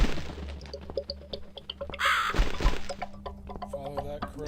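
A crow caws once near the middle of an eerie scene in the video game The Cat Lady, set against a low ambient background with scattered knocks and thuds.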